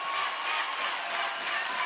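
A home crowd cheers and shouts at a boys high school volleyball game in a gym, a dense, loud roar of voices that stays constant and close throughout.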